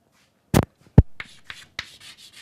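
Chalk or marker strokes on a board in a lecture hall about aircraft avionics and propulsion subsystems, a few short scratchy taps and scrapes with brief pauses, close and moderately loud.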